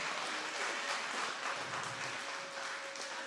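Wedding guests applaud in a dense, sustained wash of clapping, steady and moderately distant, with no voices over it.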